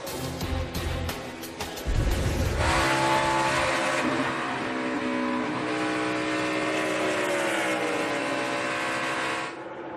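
NASCAR stock cars at the 2014 Brickyard 400 roar loudly past, engine drone sustained and dense throughout with shifting harmonic tones as the field streams by, a brief heavier burst early on before the steady pack noise settles.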